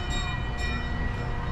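An amusement park railway train at Djurs Sommerland rolling past a station, a brief steady rumble with faint tonal whine overhead, close and loud, no talking.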